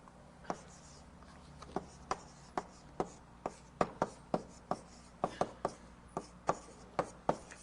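Chalk tapping and scraping on a board during a university algorithms lecture, a steady series of sharp, fairly faint strokes at an irregular but brisk pace in a quiet room.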